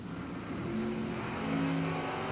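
A drag racing car launches with its front wheels lifted at the RAD Torque Systems Spring Fling at Galot, a steady, loud engine roar with droning tones that build slightly, heard from a distance with no voices.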